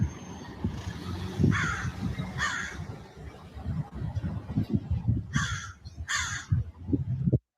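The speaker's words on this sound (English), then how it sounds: "The crows are even mocking him about it." Crows caw in harsh bursts, a couple of calls early and then two more later, heard over a busy, rumbling outdoor background with traffic-like noise.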